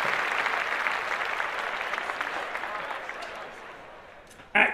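A round of clapping and applause from a small group during a podcast, dense and steady before thinning out, then a brief louder burst right at the end.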